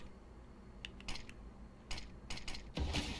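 A smoke grenade thrown on the Mirage map in Counter-Strike: a few quick clicks and mechanical rattles lead into a louder burst of throw and hiss at the end, all fairly faint.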